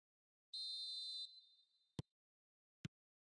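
A referee's whistle in an eFootball match blows once, a single shrill sustained tone that trails off, followed by two brief isolated low thumps.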